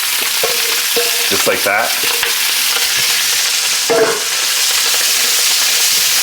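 Onions frying in a hot pan with bacon and hog jowl, a steady sizzle with stirring scrapes and clatters running throughout, close and fairly loud, with a brief spoken remark.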